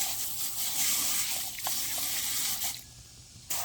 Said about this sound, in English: All right, we're going to wash our hands off.